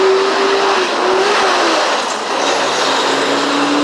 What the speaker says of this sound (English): We have a truck passing through.